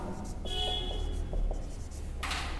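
A pen scratches across paper in a classroom with a few short strokes and taps. A steady room hum and background noise run underneath.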